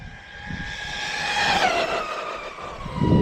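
An Arrma Granite 223s RC truck runs at full trigger, with a steady high-pitched electric motor whine that rises in pitch and holds, plus tire noise skittering over pavement and a thump near the end, recorded fairly close.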